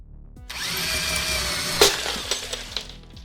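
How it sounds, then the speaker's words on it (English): A video game drill explodes: a whirring, rising mechanical tone breaks into a sharp shattering burst, followed by a few scattered debris clatters fading out. "The drill exploded."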